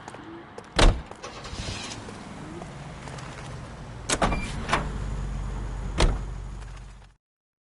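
In the video game L.A. Noire a car engine hums steadily on the road, with a few sharp door-like thuds and clunks standing out, before the sound cuts off abruptly.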